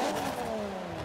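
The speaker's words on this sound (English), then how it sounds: "let's fire up the Giulia and get going" An Alfa Romeo Giulia Quadrifoglio engine revs hard in Forza 7, a loud close rasp whose pitch slides steadily downward over a second, with a busy mechanical clatter layered beneath and no voices.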